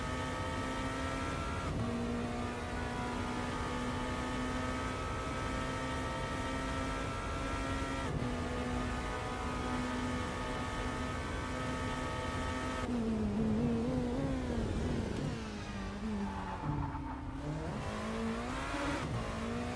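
Porsche 963 LMDh hypercar engine in Rennsport holds a steady high whine, then drops and rises through several gear changes with brief revving dips near the end, loud and close, no voices.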